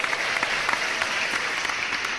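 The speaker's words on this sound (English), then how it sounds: "Oh, they super loud with the claps." An audience at a podcast's 100th episode claps loudly and continuously, a dense, steady wash of applause with no voices rising above it.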